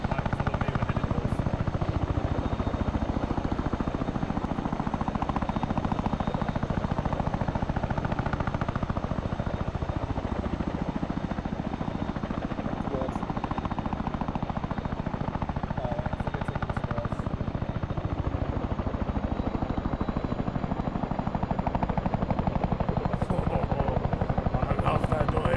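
A helicopter engine from a modded military video game, a loud continuous rotor thrum and whine lasting throughout, with bursts of gunfire-like rattle mixed in and voices talking over it.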